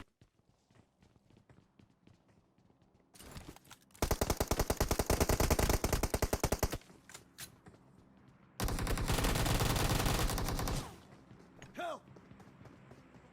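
Automatic gunfire in the mobile battle-royale game PUBG Mobile, two loud, dense bursts of rapid shots separated by quieter stretches of footsteps and movement.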